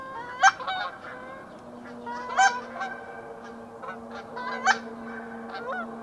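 Goose calls from a hunter's call during a waterfowl hunt, sounding as several loud honks with sharp peaks between softer cackling notes, close and clear over a low steady hum.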